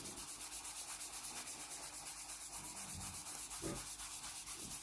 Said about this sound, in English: So how hard do I have to rub to get it off?